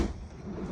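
A pull-out freezer drawer in a camper's residential fridge slides open or shut in a single short, close rumbling glide.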